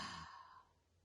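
A single deep exhale through an open mouth during chair yoga, a soft breathy rush that is strongest at first and fades away within about a second, close and quiet.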